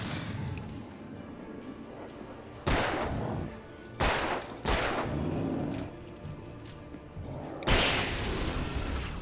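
Pistol shots ring out in the video game Alan Wake, several loud, sharp bangs spaced a second or two apart over a dark ambient background, with brief whooshes between them.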